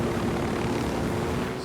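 Helicopter in the video game Ghost Recon Wildlands, flying with a steady, continuous rotor and engine drone that stays loud and unbroken throughout.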